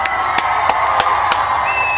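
A crowd applauds and cheers at an Umoja celebration, with sharp claps and brief whoops rising over a steady, busy wash of voices, loud and close throughout.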